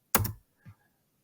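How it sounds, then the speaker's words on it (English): A single computer keyboard key is pressed, probably Enter, to submit a login: a sharp, close click followed by a softer release tap. "Clicking enter on login."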